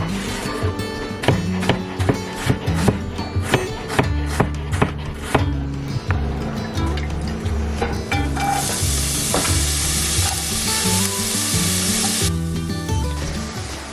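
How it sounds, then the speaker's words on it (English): Onions browning and caramelizing in a pan, meant for beef sliders: a steady close sizzle with repeated scraping stirs and clinks of a utensil, building into a louder, hissing fry. "The first thing that you want to do is just brown and caramelize your onions."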